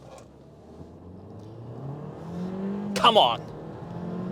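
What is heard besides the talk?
Kia Seltos GT line launch acceleration, engine revving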